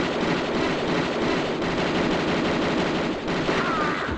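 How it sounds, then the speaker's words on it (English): Automatic pistol fire from Lara Croft in Tomb Raider 2 Gold, a loud, dense rattle of rapid shots sustained throughout with no pauses and no talking. "I'm going to take out my automatic pistols and lay waste to this guy"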